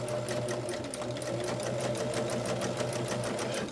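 A sewing machine stitches pieces of a quilted table runner at a fast, even pace, its needle tapping in a rapid, regular rhythm over a low motor hum, close and unbroken.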